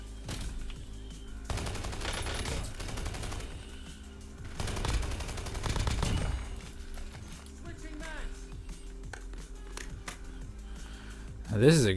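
Bursts of RFB Maddox rifle fire in Warzone, two dense volleys of rapid shots heard at moderate volume, followed by quieter game effects and background ambience.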